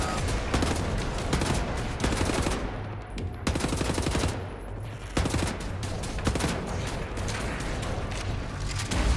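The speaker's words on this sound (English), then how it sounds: "I'm gonna have to ask you to stop shooting energy balls at me" Rapid bursts of gunfire and energy blasts fired at the player in Wolfenstein: The New Order, loud and nearly continuous with a brief lull midway.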